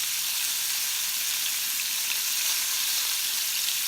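Meatballs frying in a pot of hot grease give a steady, close sizzle with fine crackling pops throughout, no voices over it.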